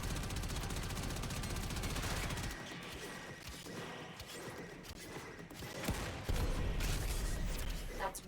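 Video game turret gunfire, dense rapid bursts that fill the soundscape, thinning to scattered shots, then rising again into a loud close volley.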